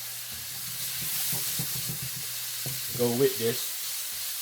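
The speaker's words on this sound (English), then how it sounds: "Then I'm gonna cook some pork chop." Pork chops sizzle and fry in a pan with a steady hiss, while a person talks close by over it and a few louder clatters come near the end.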